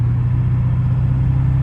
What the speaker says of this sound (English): Truck downshifts.